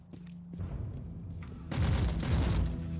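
Heavy autocannon fire in the grimdark sci-fi action game Warhammer 40,000: Inquisitor – Martyr, a sparse opening of thumps swelling into a loud, dense fusillade of booming rapid shots with battle noise underneath.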